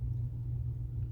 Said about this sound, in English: The machine rotates.